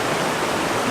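A stream flows steadily, close by, as a dense, continuous rush of water with no pauses and no voices.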